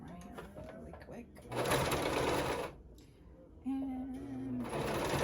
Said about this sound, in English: And then I'm gonna sew around this piece right here because I love that look.